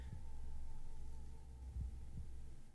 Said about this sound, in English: we're even hearing the heartbeat